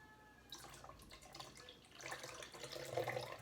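Tap water running into a mead fermenting vessel, a steady broadband splash that starts after a quiet moment and grows louder and fuller as the vessel fills.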